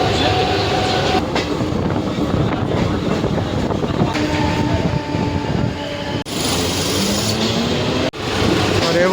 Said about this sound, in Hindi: हे बघू शकता आपली ट्रेन आलेली आहे बघा